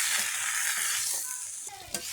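Pasta ingredients are stirred in a hot pan, with a bright, steady sizzle and a few soft scrapes and clinks of the spoon near the end.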